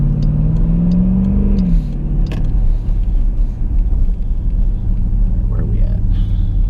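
A Jeep with several mechanical problems runs steadily while being driven, its low engine rumble and road noise constant throughout, with a brief rise in pitch early on and voices talking over it.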